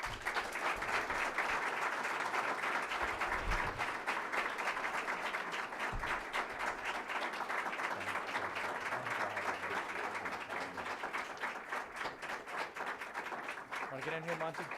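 An audience applauds at an announcement welcoming Simon Gray to Niagara University, dense sustained clapping from a large crowd that fills the room and carries on without a break, with a voice speaking underneath.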